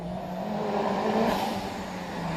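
Engine of a Mitsubishi Evo 9 rally car on a sprint hill course, a steady droning engine note that swells slightly mid-way as it accelerates, heard alone at moderate distance.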